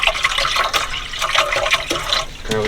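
Water pours steadily and loudly into a cooking pot in a van during winter in the UK, a continuous splashing gush with no talking.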